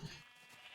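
A short sheep bleat on a Minecraft sheep farm, a brief game sound at the start over steady background noise.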